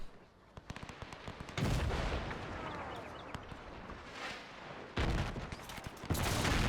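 Artillery volleys in a World War I strategy game, German Empire campaign: a dense barrage of gunfire and booming shots, with sudden loud bursts of rapid firing that overlap and decay between volleys.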